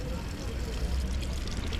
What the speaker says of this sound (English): Water fountains.